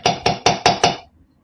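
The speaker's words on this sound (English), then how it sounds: "just give these a little bit of a tap on your bench block" Five quick metallic taps of a hammer flattening aluminum wire links on a steel bench block, evenly spaced, close and crisp, with no voices.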